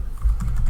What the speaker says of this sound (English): just let's type the command